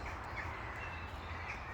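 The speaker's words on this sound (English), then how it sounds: "We are in Ravenswood, which is why there's a lot of crows" Crows cawing in Ravenswood, a few harsh calls carrying faintly over a steady outdoor background with no talking.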